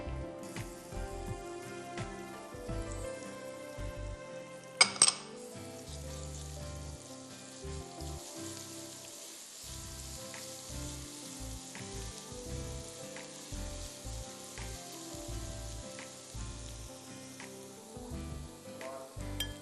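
Garlic frying in hot sesame oil mixed with regular cooking oil gives a soft, continuous sizzle at low level, with a brief clatter midway and faint background music.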